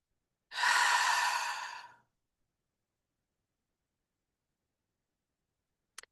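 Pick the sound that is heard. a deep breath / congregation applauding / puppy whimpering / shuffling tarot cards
a deep breath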